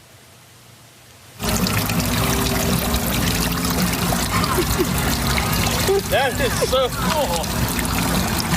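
Fresh drinking water pours from a docked police boat's hose in Florida, a loud steady gushing stream that starts abruptly and continues, with a voice speaking briefly over it and some squeaky chirps near the end.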